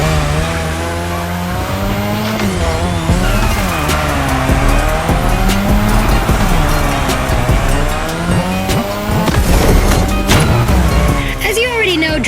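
A car drifting on a drift track in the video game The Crew Motorfest, its engine roaring loudly and continuously with rising and falling revs while tires squeal in long sustained screeches throughout, all close and dominant.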